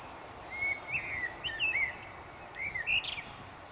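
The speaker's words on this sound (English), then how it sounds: "There's blackbird singing behind me" A blackbird sings in fluting, whistled phrases beside a river on a countryside walk, several short bursts over a few seconds, clear but a little distant against a quiet background.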